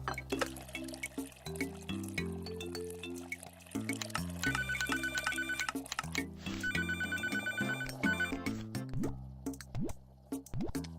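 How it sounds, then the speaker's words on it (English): A telephone rings in the cooking game Papa's Mocharia Deluxe. It trills in repeated bursts over steady, looping background music. "he's calling in over the phone"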